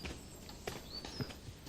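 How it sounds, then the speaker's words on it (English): A team of dray horses hauling timber along old estate pathways gives off a few faint, scattered hoof thuds against quiet outdoor background noise. "A team of dray horses are removing the bigger timber for use in building work around the estate."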